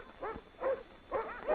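Sled dogs of a Navy Antarctic expedition give four short, muffled barks and yips in an uneven rhythm, at moderate distance, with a dull, old-recording quality.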